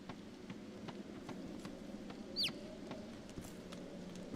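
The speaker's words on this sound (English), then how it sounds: "Is it okay if the chicken follows me?" A chicken clucking in the game Divinity: Original Sin II, a few faint short clucks and one brief squawk over a quiet ambient bed with soft footstep-like taps.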